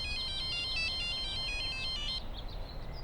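A melodic electronic telephone ringtone repeats a quick tinkling phrase for about two seconds, then stops, leaving a soft background hum.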